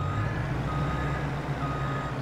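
A truck in a farming simulator game backs up with steady reversing beeps over a constant low diesel engine rumble.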